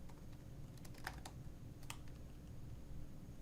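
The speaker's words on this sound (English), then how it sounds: "That must be that new quiet MacBook keyboard." A quiet MacBook keyboard gives a few faint, soft key taps scattered over a low steady background hum, with no talking.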